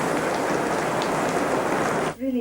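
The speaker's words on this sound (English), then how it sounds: "Is that rain?" Heavy rain pelts down in a dense, loud, continuous wash, close by. It stops abruptly near the end, where a voice briefly speaks.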